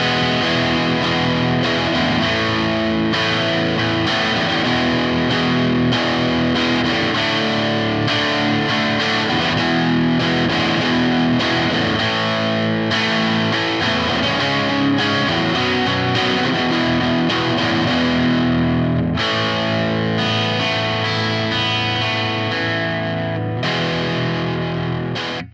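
A distorted electric guitar plays a tune at steady loudness, thick and saturated with effects, sustained chords and notes running continuously with no talking.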